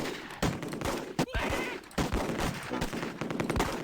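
MG42 machine guns firing in the World War II strategy game Close Combat, dense rapid bursts and overlapping gunfire with heavy thumps, loud and continuous across the whole stretch.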